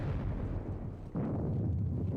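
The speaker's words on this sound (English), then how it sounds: "lose a good 40 men to cannon fire in the Hessians" Cannon fire in a Napoleonic wargame set at the Katzbach, heard as a continuous heavy low rumble of booming artillery with a sharper burst partway through, loud and without talk.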